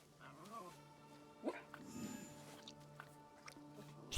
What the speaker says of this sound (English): Puppy dog.